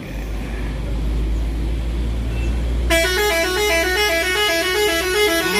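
A bus horn blasts suddenly and loudly midway, a musical multi-tone honk that keeps sounding over the rumble of idling road traffic.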